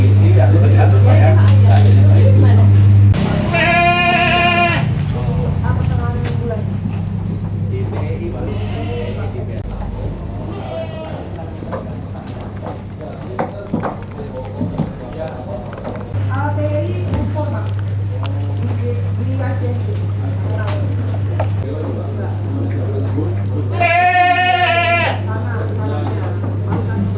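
Dairy goats bleat loudly in bursts, a couple of wavering calls near the start and again toward the end, over a constant low hum and someone talking throughout.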